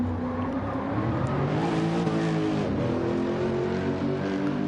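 A Lexus GT3 race car engine on the Nurburgring 24 circuit in Gran Turismo 7, loud and close, its note dipping and climbing as gears change and throttle shifts, with a faint squeal of tires and no talk.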